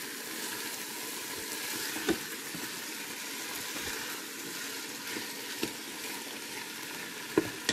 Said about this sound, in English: Now I don't want this meat cooked right through, but I do want it nicely browned.